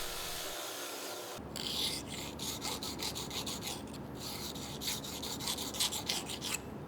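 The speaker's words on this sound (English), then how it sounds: "I decided that the best thing to do here was just to grind a hollow on the inside." Steady abrasive rasping and rubbing as a hollow is ground into the inside of a wooden chef's knife handle, continuous and close with slight pulsing strokes, no talk.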